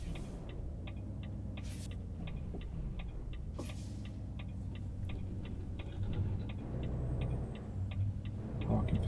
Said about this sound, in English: I'll get to use indicators and turn the steering wheel properly.